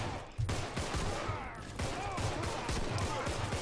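Gunfire in the zombie video game Contagion, several sharp shots crackling in quick succession against a busy, noisy game backdrop.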